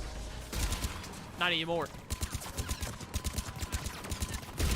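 Enemy turret gunfire in Mass Effect 3, rapid bursts of shots rattling in quick rhythmic clusters, with a player's voice speaking briefly over the firing.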